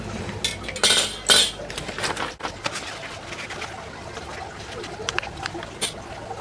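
A PVC pipe being cut to length for an aquaponics bell siphon, with sharp clinking and scraping strokes early on followed by quieter intermittent rasping and taps at close range.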